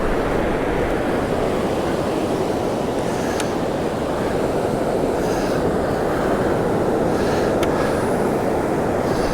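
Surf breaking steadily on an East Coast beach at night, a continuous loud roar of white water with no pauses, close and dominating everything.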